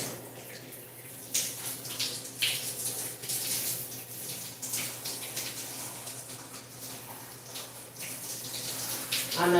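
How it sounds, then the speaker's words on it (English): Shower water running indoors, a moderate continuous hiss and splash with irregular louder bursts as the spray is interrupted, with a faint low hum beneath. "I'm almost done with the shower."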